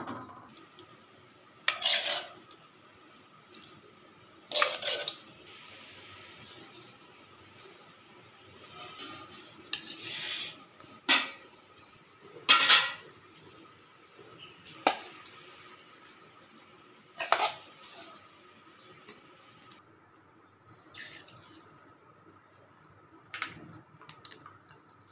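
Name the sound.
dry roasting sesame seeds in a pan without oil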